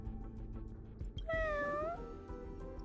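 A single cat meows in the video game Honkai: Star Rail, a clear rising-then-falling tonal call near the middle, set over a low background game ambience.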